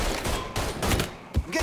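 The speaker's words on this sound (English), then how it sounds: "I'm getting shot." Gunfire in the video game Mafia 3: dense, rapid bursts of shots with sharp cracks in quick succession, loud and close, forming a continuous fusillade.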